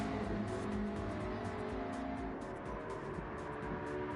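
McLaren GT3 race cars racing in Gran Turismo 7, a continuous blend of high engine whine and revving as several cars run close together, steady and loud throughout without pauses.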